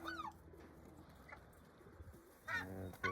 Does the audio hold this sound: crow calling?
yes